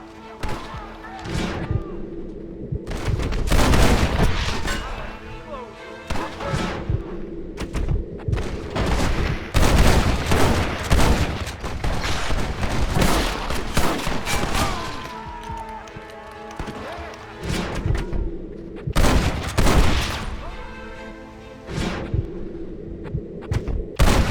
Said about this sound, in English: I'll gun down the lot of you!